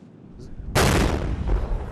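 Artillery fire strikes enemy positions in the cold during the Russian invasion of Ukraine: one sudden, loud, broadband blast that rolls into a sustained rumble, with a second swell of impact noise close behind.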